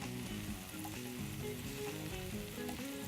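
Food browning fast in a hot pan, a steady loud sizzle and crackle of frying with occasional stirring scrapes, close and continuous with no talking.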